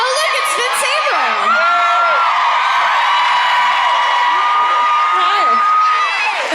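A live audience screams and cheers loudly and without a break, with many high voices whooping and shrieking together.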